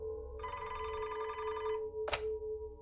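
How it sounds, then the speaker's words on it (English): A desk telephone bell rings once in a close, bright metallic burst over a steady electronic tone, followed by a short clack like the handset being lifted. "Gerzib's phone rang at his desk, so he answered it"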